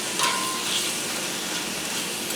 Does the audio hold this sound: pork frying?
yes